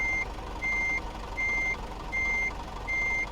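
Heavy truck's reversing alarm in Euro Truck Simulator 2, five steady evenly spaced beeps sounding loud and close over a low engine rumble as it backs up, with no talking.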